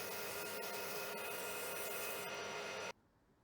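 Woodturning lathe with a threading tool taking a light scratch pass at 16 TPI on a wooden workpiece: a steady loud scraping, whirring rasp that runs continuously, then cuts off abruptly near the end.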